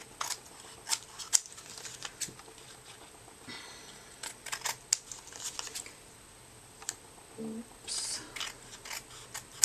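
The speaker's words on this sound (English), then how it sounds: "Just cut around so it's close to the edge." Scissors snip around the edge of a handmade altered paper tag, giving a scatter of sharp close crisp cuts and paper rustles over a quiet room, with a brief spoken exclamation.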